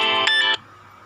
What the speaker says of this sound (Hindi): फोन आ रहा।